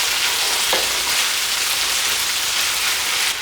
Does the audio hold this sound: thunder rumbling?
no